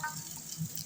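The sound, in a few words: stirring and frying taro stolons in a pan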